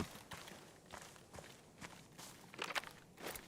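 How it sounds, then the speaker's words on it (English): Footsteps in the shooter game Arena Breakout: Infinite land as a regular run of crunchy steps, faint and fairly distant, with a brief scuffling cluster near the end. "I'm gonna stun up because I hear footsteps."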